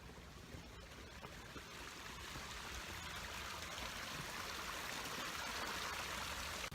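Water from an established stream and waterfall pours steadily into a koi pond, a continuous rushing, trickling flow that holds at an even level and grows slightly fuller toward the end, with no voices.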